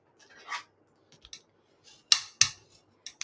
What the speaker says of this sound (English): I'm going to fold my Flirty Flamingo card base in half, and I'm going to burnish it with my bone folder